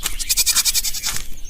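A cartoon wolf voices a goat-like bleat, a loud wavering quaver pulsing rapidly for over a second; a voice imitates the sound.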